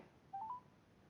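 A short run of electronic mobile phone dialing tones, two or three quick beeps in a row, heard over a low steady background hiss.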